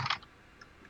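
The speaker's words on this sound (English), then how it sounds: "please stop typing." A computer keyboard is typed on in a few quick, light clicks, a short cluster at the start followed by scattered single taps, faint and close against near silence.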